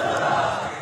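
A crowd at a dharna sit-in protest near the Punjab Assembly roars out a slogan together, a dense, loud burst of many voices lasting under a second.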